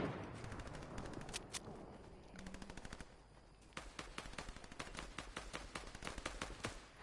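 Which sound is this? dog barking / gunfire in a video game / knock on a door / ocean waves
gunfire in a video game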